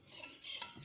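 Homemade slime is stirred in a container, giving quick scraping, rubbing strokes in two or three short bursts, close and fairly quiet, with no voices.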